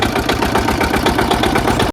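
Fishing boat engine on a Sundarbans river boat chugging steadily and loudly at close range, a rhythmic idle-like throb running throughout before cutting off abruptly at the end.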